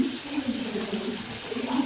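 Water pours steadily into a basin inside a video game, a continuous close splashing fill with a gurgling undertone and no talk over it.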